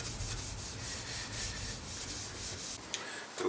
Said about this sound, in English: steel wool, ultra fine, and just quite gently rub it as flat as you can, making sure to get the edges